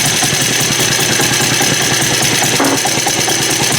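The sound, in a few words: PA engine idling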